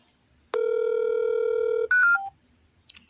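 A telephone redial: a steady tone holds for over a second, then a brief burst of dialing beeps follows, alone with no talking.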